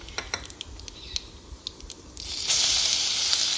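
Cumin and a pinch of asafoetida hit two ladles of hot oil in a kadhai. Soft crackles and pops come first, then a steady, louder sizzling hiss that builds and holds close up.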